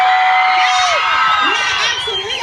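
An excited crowd cheers, whoops and screams continuously, loud and close, with high youthful shrieks sweeping through the noise.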